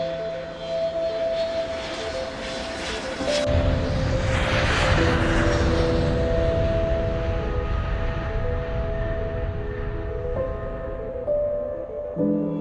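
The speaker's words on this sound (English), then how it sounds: "A few minutes later, the plane landed near a forest." Aircraft engine drone from a partly uncontrollable small passenger plane still in flight just before an emergency landing near a forest in Alaska, a steady loud broadband roar with tonal hum that swells midway and holds.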